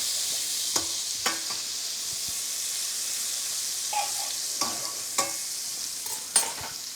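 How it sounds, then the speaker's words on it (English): Butter sizzles in a pan with beef juices, a steady soft hiss broken by a few scattered light scrapes and clinks of stirring. "Now that's mixing with the beef juices"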